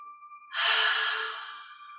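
One long, loud exhale, close and alone, from a person breathing through a yoga hamstring stretch. The breath rises sharply and then fades slowly over about a second and a half, like a sigh.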